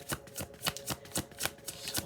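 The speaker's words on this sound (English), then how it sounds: "I'll shuffle them a little bit on camera just to be very, very thorough" Tarot card decks being shuffled by hand, a steady run of quick riffling flutters repeating about every quarter second, close and fairly quiet, with no voices.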